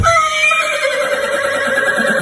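A horse in an animated story lets out a loud, close whinny, a bright, wavering neigh that descends and fades over a couple of seconds.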